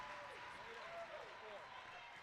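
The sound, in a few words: crowd standing ovation applause at volleyball game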